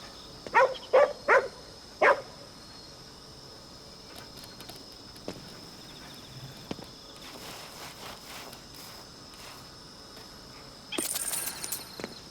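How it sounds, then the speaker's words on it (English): A dog in the video game Ghostwire: Tokyo digs up money, with a few sharp bark-like bursts early on, scattered scuffing and small thuds, then a bright jingling chime near the end over a quiet ambient game background. "He just dug up some money, as dogs will do."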